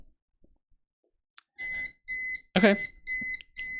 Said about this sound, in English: And timer goes off.